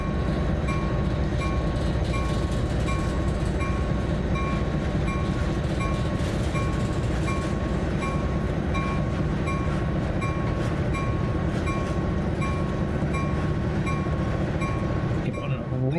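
A locomotive rolls steadily on the Peninsula Corridor near Santa Clara in a train simulator game, with a continuous heavy rumble, rhythmic wheel clatter and a steady tonal whine throughout.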